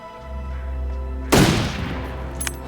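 A single loud rifle shot rings out in The Long Dark hunting game, its sharp blast decaying into a long rumbling tail over a steady low ambient hum, with a faint click near the end.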